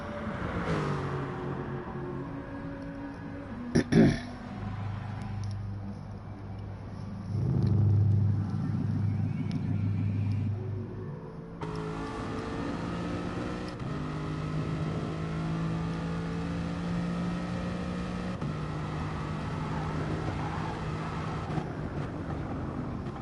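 Racing-car engine in Gran Turismo Sport sim racing drones steadily on a race track, with a sharp knock early on, shifting revs, and a fuller, busier engine tone in the second half.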